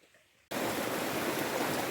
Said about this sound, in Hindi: ये पुल के पार से पानी जा रहा है और कलकल की बहुत शानदार आवाज़ आती हुई